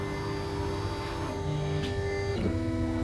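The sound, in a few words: Ortur Laser Master V2 laser engraver moving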